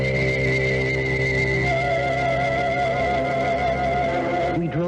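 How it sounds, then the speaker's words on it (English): A car engine runs in a steady, loud drone with a sustained tonal hum, ending in a short squealing, skidding sweep near the close, with no talking. "We drove to Hillingham Cemetery in John's car"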